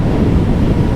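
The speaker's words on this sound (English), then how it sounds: "feeling a bit of wind blast on my helmet" Loud, steady wind blast buffeting a motorcycle helmet while riding a 2022 Suzuki Hayabusa, a dense low roar with no break and no talking.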